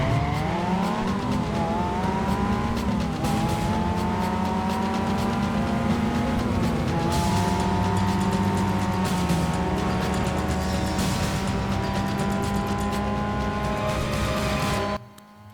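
Race cars speed along mountain roads in Need for Speed Carbon, engines revving loudly with rising and falling pitch as gears shift, layered with dramatic music and road noise, continuous until a sudden drop at the end.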